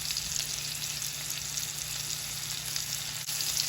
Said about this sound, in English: what I really want to do here is to caramelize the potatoes, get a nice golden crusty outside on them